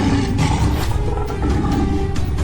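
A lion roars loudly and repeatedly in a jungle, a thick, steady rumbling growl with pulsing swells, close and dominant from start to finish.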